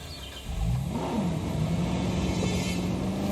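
A ranger vehicle's engine in Jurassic World Evolution revs up and holds a steady, rumbling drone, close and fairly loud, with no voices.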